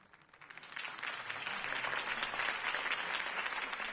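A crowd breaks into applause that swells quickly and holds steady, a dense rush of many hands clapping at once.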